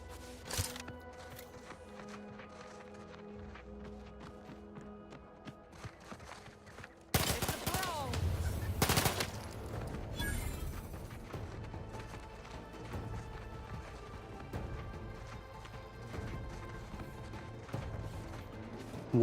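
Gunfire in the video game The Outer Worlds 2: scattered shots and sharp cracking bursts, with a dense loud volley in the middle and lighter pops continuing after, set against busy game sounds.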